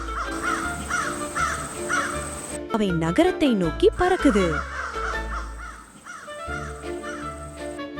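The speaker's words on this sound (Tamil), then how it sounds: "ரோபோ காக்கைகள் உயிர் பெறுது." Robot crows in a cartoon caw repeatedly in quick, warbling bursts over music and a narrator's voice, with a dense flurry of overlapping calls in the middle.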